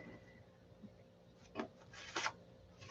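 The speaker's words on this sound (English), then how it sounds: "I have to sand on this wing and I got the trailing edge here pretty flat" Hand sanding along the flat trailing edge of an aircraft wing, heard as a few soft, close rubbing strokes, two short bursts standing out against a quiet background.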